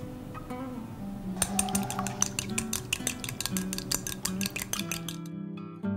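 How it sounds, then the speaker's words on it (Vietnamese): An egg beaten into batter in a bowl for shrimp tempura, a whisk or utensil clinking rapidly and steadily against the bowl's side, close and fairly loud, with a steady hum underneath and no talking. "Đánh tan thêm một quả trứng."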